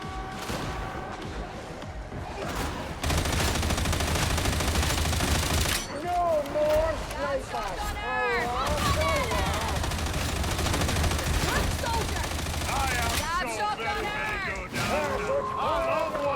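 Sustained autogun fire in the Darktide video game from a Veteran build, a dense, rapid rattle of shots running almost continuously, with someone talking over it and other game sounds mixed in.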